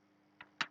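A few quiet computer keyboard keystrokes while typing code, a single tap followed by two quicker clicks close together near the end, alone after a short silence.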